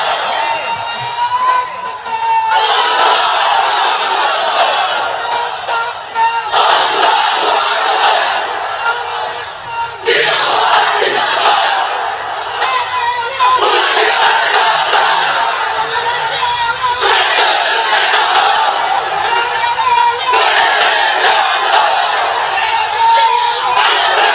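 A large crowd under a pandal at an Islamic religious gathering roars takbir slogans in loud repeated bursts, several surging waves of massed voices separated by brief lulls.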